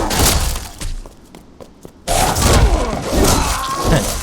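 A character's leaping melee attack in the video game Resident Evil Re:Verse, a loud burst of heavy impact with a crashing, shattering quality after a quieter stretch of scattered thuds, then sustained crunching clatter.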